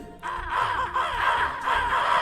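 Crows cawing in a video game, a dense flock of harsh overlapping caws repeating in waves, loud and close, with no speech over them.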